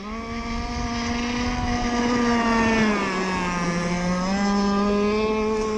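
A home-built cracker box boat engine runs steadily with a strong droning tone that sags slightly in pitch partway through, loud and close, with no talking.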